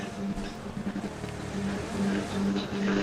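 A vehicle is driven in the battle royale game BGMI, a steady engine drone rumbling throughout while players talk over it.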